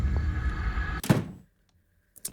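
A kitchen door in a horror video game opens with a single loud thunk over a low ambient rumble, then cuts to near silence with a faint click and a brief noise at the end.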